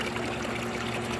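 Small garden water pump sending a steady trickle of water into a metal tin, a constant close splashing and dribbling with a faint underlying hum, unbroken and without voices.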